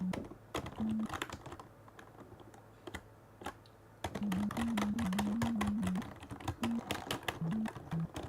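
Fingers typing on a computer keyboard in bursts of close, rapid clicking keystrokes with short pauses, over a faint steady hum and a wavering tonal sound in the background.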